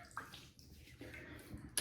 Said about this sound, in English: Actually, I'm gonna put some warm water on here.